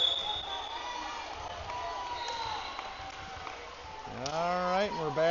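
An indoor gym crowd of fans and families cheers and chatters at a youth club volleyball match, 15-and-under teams at the Mizuno Midwest Challenge. The steady, moderately loud murmur runs throughout, with a rising voice near the end, and talk over it.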